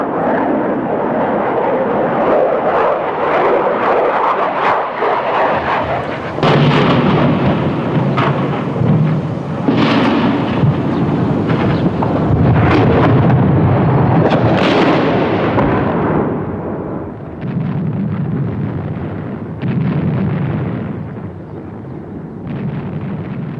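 Explosions from a wartime bombing campaign boom and rumble in heavy, overlapping bursts, loud and sustained with repeated deep blasts rolling through, and no voices.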